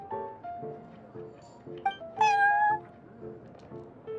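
A cat named Prince meows in the Genshin Impact video game, one bright rising-and-falling call over a soft tonal game backdrop with a few shorter chirps around it.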